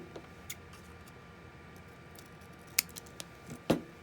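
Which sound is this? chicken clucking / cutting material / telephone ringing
cutting material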